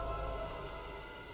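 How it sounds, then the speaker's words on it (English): Steady, soft rain falling, a continuous hiss with no distinct drops, quiet and even throughout. "Oh yeah, it's still raining."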